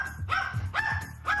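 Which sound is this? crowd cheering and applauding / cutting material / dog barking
dog barking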